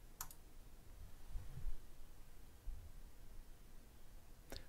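A computer mouse clicks a couple of times on its own, close and crisp, with a pair of quick clicks at the start and another at the end over quiet room hiss.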